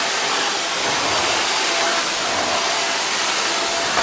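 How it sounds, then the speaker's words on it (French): Vacuum cleaner sucking up scattered polystyrene bits indoors, a loud steady broadband roar held close throughout with no voices over it. "on va aspirer un peu, c'est parti"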